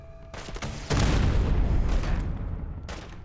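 Video game gunfire erupts in a loud, dense burst of booming shots that roll on for a couple of seconds after a few sharper cracks, close and heavy with no talking.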